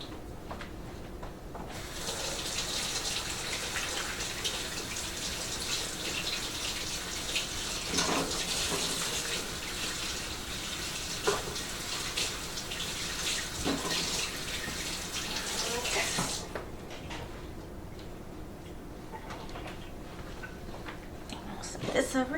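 A kitchen tap runs in a steady, close rushing stream while hands are washed beneath it, lasting about fifteen seconds before it shuts off, with faint murmuring voices and handling noises around it.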